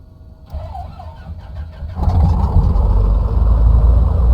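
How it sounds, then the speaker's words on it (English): A Piper PA28 piston engine in Microsoft Flight Simulator 2024 cranks with a few quick starter chugs, then catches and settles into a loud, steady, close rumbling idle with no talking. "Here we do have a good start, just adjusting the throttle here to maintain 1200 RPM, letting the engine tick over."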